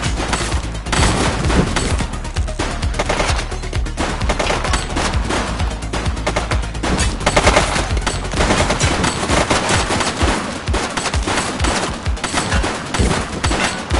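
Dense, continuous automatic gunfire rattles loudly and without pause as police in a video game fire at a fleeing suspect in a red jacket, a relentless overlapping barrage.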